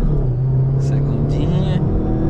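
Fiat Punto 1.8 HLX 2008 petrol car accelerating in first gear, a steady low engine drone rising in pitch from inside the cabin.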